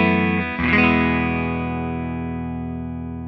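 Clean Telecaster guitar on the neck pickup through an Eminence GB 128 speaker: a single strummed chord rings out after a brief pluck, warm and close, decaying slowly with no talking.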